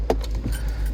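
Car keys for a 2015 Land Rover Discovery Sport, two keys taped together, jangle briefly and close up over a low rumble.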